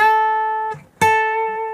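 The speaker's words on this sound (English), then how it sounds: "we want this 8th fret to sound like this." An electric guitar rings a note at the eighth fret of the B string, which breaks off briefly and is then struck again and sustained, clean and close with no talking.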